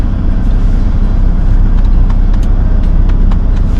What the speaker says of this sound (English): it allows the truck to warm up